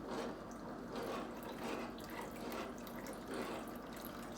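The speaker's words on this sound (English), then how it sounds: "So that's the 2½ cups of your lobster stock right there, okay?" Lobster stock pours steadily into a cooking pot, a continuous wet splashing and trickling stream that holds even and close for the whole moment, with no talking over it.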